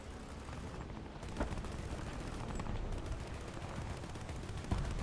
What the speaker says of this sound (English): Oh, that's where you're shooting.